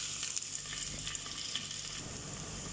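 Chopped onion and chili frying in hot oil with white cumin seeds and asafoetida for masala khichdi, a continuous crackling sizzle heard close with small bursts and pops throughout.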